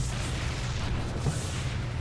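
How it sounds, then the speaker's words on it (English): Locusts attacking a base of photon cannons in a real-time strategy video game, heard as a dense, continuous rumble of low booms and crackling impacts with no clear break. "Locusts tearing this base apart"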